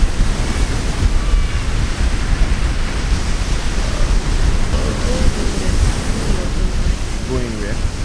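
Ocean surf at Miami Beach rolls in as a loud, continuous wash of noise, with wind buffeting the microphone and faint distant voices of beachgoers now and then.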